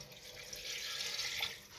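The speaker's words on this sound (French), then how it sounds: "je vais rajouter une grande quantité d'eau" A large quantity of water pours into a cooking pot as a steady, faint, hissing splash, with no voices.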